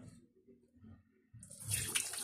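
Tap water gushes into a kitchen sink during washing, starting abruptly partway through after a quiet stretch, loud and continuous to the end.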